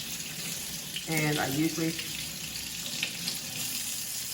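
Cold tap water runs steadily over hot cooked sweet potatoes being peeled in a kitchen sink, a continuous close hiss and splash under a person speaking briefly.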